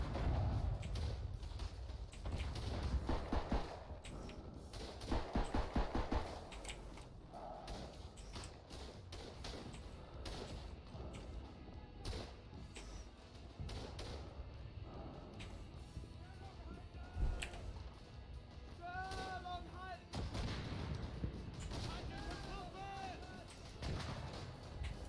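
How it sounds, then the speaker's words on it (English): Gunfire in the World War I shooter Verdun, with bursts of Lewis light machine gun fire and distant artillery thumps scattered through a long stretch of battlefield noise, someone talking over much of it. "Guy's got a Lewis. The Lewis gun is the only LMG you can fire while walking."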